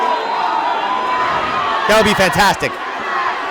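Sold-out wrestling arena crowd roaring in a steady wash of noise, swelling into a louder burst of shouts and jeers midway, with a close voice speaking over the din.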